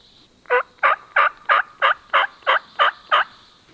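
A wild turkey gobbles on public hunting land in Alabama, nine evenly spaced, loud, clear calls in a steady rhythm, standing alone against quiet surroundings.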